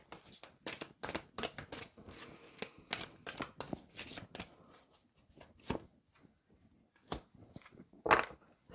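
Tarot cards reshuffled by hand: a quick run of crisp riffling snaps and papery slaps in bursts, close and fairly quiet, with no talk over them.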